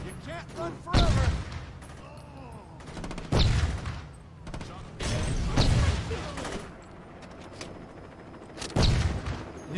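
Video game gunfire rattles in bursts, loud volleys and fusillades with booming impacts, spaced several seconds apart, with voices talking between and over the shots.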